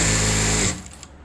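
A sewing machine stitches the back piece of a blouse, its fast, loud mechanical whir running steadily and then stopping, followed by a few faint clicks.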